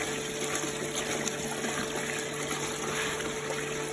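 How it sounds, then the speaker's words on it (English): Pumped water runs continuously through a gold sluice on a Lake Superior beach, a steady, loud rushing and gushing with a constant pump hum and no voices. "I've got the sluice up and running"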